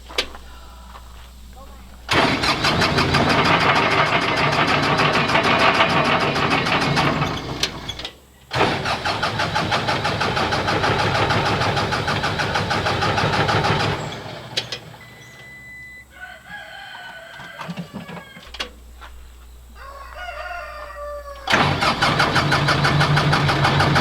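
A car engine turns over in long, loud grinding bursts that stop and restart, then sputters without catching; a rooster crows faintly in the background during the quieter gaps.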